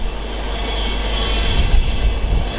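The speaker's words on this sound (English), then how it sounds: "56090 is coming in to attach to what was the rear of the train, now the front of the train, as it prepares to head up to Crewe" Class 56 diesel locomotive 56090 arriving at Stafford station to attach to a train, a loud, steady engine rumble with a deep low drone that swells slightly as it draws nearer.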